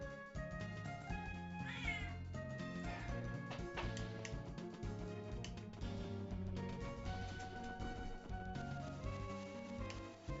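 A pet cat gives a few meows against a dense, steady wash of background music, the calls mixed in rather than standing alone.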